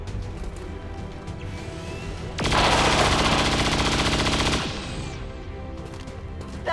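Sustained automatic gunfire in a video game aimed at the Purifier, a loud two-second burst of rapid shots rising sharply over steady game ambience and music, then cutting off.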